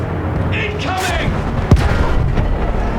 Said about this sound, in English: Field guns took her apart!